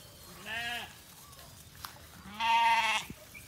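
Sheep and lambs in a breeding pen bleat twice, a shorter wavering call followed by a louder, longer one, fairly close against quiet farm background.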